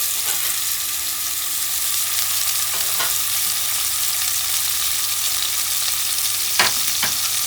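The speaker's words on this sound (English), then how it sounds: "So we are going to start cooking our minced beef off." Minced beef frying and browning in a hot pan, a steady close sizzle running throughout, with a couple of faint utensil clinks near the end.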